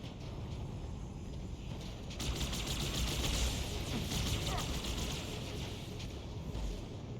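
Two guns fire at once in Halo in a rapid sustained burst of sharp shots, loud and dense over a rumbling, wave-like background. It builds to a peak mid-clip and then eases.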